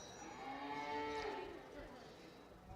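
Cattle mooing in the show ring at a county fair beef show with commercial cow-calf pairs, a single long, drawn-out low moo rising and falling over steady crowd and arena noise.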